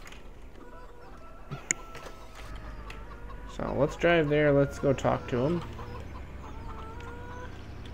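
Chickens cluck and squawk in Farming Simulator 17, a loud burst of repeated calls in the middle of the clip over steady engine-like background hum, with someone talking before it.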